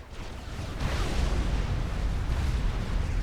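A strategic missile strike in Supreme Commander 2 detonates as a heavy, rolling explosion that swells after a moment into a sustained deep rumble and fades only slightly, loud and without voices.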